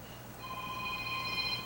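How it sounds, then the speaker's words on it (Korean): A phone rings during a Sunday morning church service, a faint electronic ringtone with sustained tones over quiet room noise, starting just after the clip begins. "전화 왔습니다."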